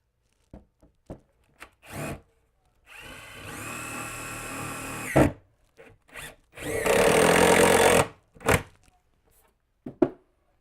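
A power drill drives a screw through a half-high wall panel into a wall stud, running in two sustained whirring bursts separated by short knocks and handling clicks, close and alone.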